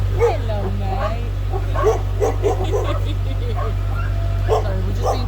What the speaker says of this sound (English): Sorry, we're just being told off by a dog.